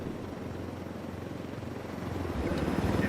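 A helicopter from the Ghost Recon Wildlands video game whirs with a steady low rotor drone that swells louder toward the end, with no talking.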